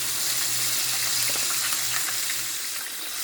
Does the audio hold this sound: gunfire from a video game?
no